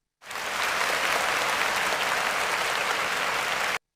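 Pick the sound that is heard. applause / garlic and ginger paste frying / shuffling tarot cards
applause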